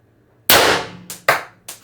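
An HD24 airgun fires on an 8-gram CO2 cartridge at 1,000 PSI: one sharp, loud crack, then a softer second report and two more quick snaps close together, each with a short decaying tail.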